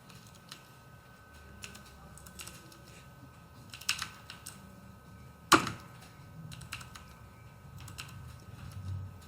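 Someone types on a computer keyboard while entering a record into an Excel spreadsheet, producing irregular bursts of close, light key clicks with pauses between runs and one louder sharp tap midway, without talk.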